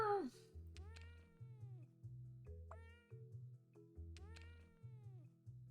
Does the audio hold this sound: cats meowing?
yes